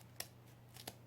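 Scissors snip twice through craft material cut to a measured length for a Dollar Tree and Daiso mini glam table lamp, two short, crisp, faint cuts about two-thirds of a second apart over a quiet hum.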